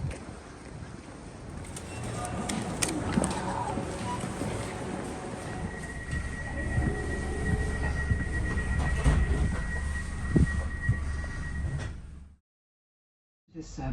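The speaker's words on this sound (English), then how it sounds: "Arriving at the station." A train pulls into a railway station on the line toward Ely, giving a steady loud rumble of wheels and carriage noise, a sustained squeal of brakes partway through, then a sudden cut to silence near the end.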